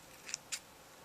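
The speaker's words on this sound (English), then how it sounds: "cut the ends off" Scissors snipping thread ends after sewing, two quick close snips about a fifth of a second apart, sharp and clean in an otherwise quiet room.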